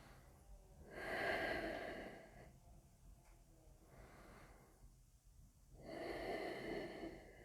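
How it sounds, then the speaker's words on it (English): Two slow, deep yoga breaths, each a long audible inhale swelling then easing out, close and soft, with quiet pauses between them and no talking. "Just take 2 deep breaths in and out here."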